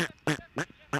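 Three quick, nasal duck quacks play as a sound effect, evenly spaced and fairly loud, alone with no talk.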